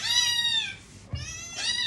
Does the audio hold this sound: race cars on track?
no